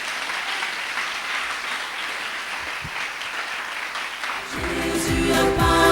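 Church congregation applauding to acclaim the Lord, a steady dense wash of clapping that swells louder near the end as music and singing come in.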